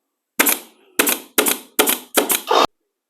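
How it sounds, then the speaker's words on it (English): A pneumatic pin nailer run off a small McGraw 3-gallon air compressor fires five sharp, close pops into maple, spaced roughly half a second apart, with silence between shots. "The first thing we're going to try up is the pin nailer"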